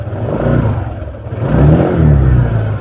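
A motorcycle engine is revved a few times during an FI scanner RPM check, rising and falling in pitch up close, with no one speaking.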